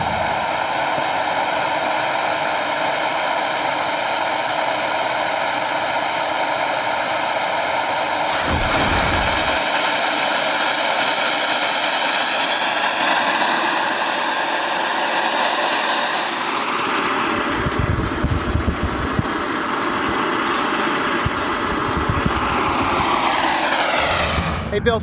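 A radio-controlled model aircraft engine starts up and runs at a steady, loud, high-pitched whine for the whole stretch, changing pitch as it revs, outdoors at a bike night street event, with voices faintly underneath.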